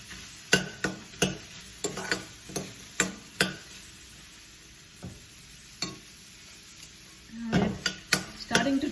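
Eggplant roasting in a dry pan with no oil, giving a steady soft sizzle under a run of sharp utensil taps and scrapes against the pan, with a louder stirring rustle near the end.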